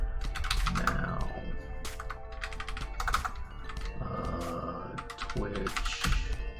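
Computer keyboard keys clatter in quick clustered bursts, close by, with brief gaps, while a voice talks softly underneath at times.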